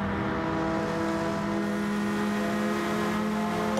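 Several race cars battle closely at Interlagos in a racing game, their engines blaring in a loud, unbroken high-revving drone with layered harmonic whines, close by and without any talk.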